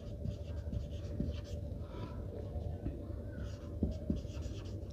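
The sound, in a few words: writing on a board during a maths lesson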